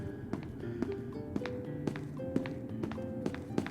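Zombie footsteps in the game SCP Secret Lab, identical to human steps: a steady run of light, evenly spaced taps on a hard floor, about two per second, over a low ambient game hum.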